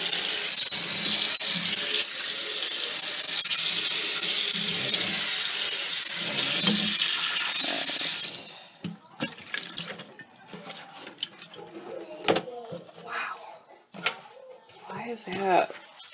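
Cold water gushing from a kitchen tap into a sink, a loud steady rush for several seconds, then the flow stops and gives way to clattering, splashes and handling noises.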